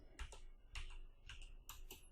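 Keystrokes on a computer keyboard in bursts of quick clicks, about four short clusters spread over two seconds, close and moderately loud with no talking.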